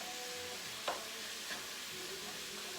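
Ground meat filling for Italian stuffed peppers sizzles and browns in a pan, a steady close hiss broken by a couple of soft stirring scrapes.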